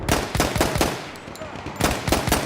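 Machine gun fire in Battlefield 1, loud rapid bursts of sharp shots, two clusters of rattling fire separated by a short lull.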